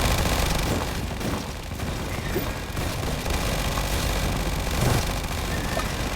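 A tower in the Tower Defense Simulator game keeps shooting at rocks, a dense stream of rapid gunfire with scattered booms, loud and continuous throughout.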